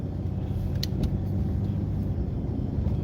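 A car pulls away from a stop sign onto a service drive, its engine and road rumble steady and close from inside the cabin, with faint brief clicks along the way.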